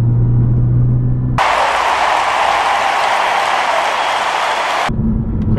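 A Porsche Cayman S engine roars loudly for a few seconds in one sustained, broadband burst, bracketed by a lower droning tone before and after.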